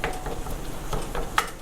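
Ground beef broken up with a single spatula in a pan for homemade tacos, giving soft, irregular scraping and tapping with a brief sharper clink of utensil on metal near the end, close and moderately loud, no talk.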